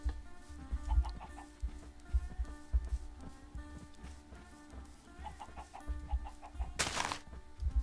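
A chicken in Minecraft makes short, scattered clucks over a steady game backdrop of low thumps and tonal music, with one brief burst of noise near the end.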